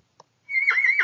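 A horse lets out a single clear, high whinny after a brief tap, the call sustained and wavering for about half a second, close and loud.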